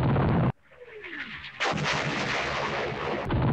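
Artillery fire in the West Front war strategy game Campaign Series, Operation Sealion: a loud blast, a whistling descending shell, then a sustained rumbling barrage of impacts with another sharp report at the end.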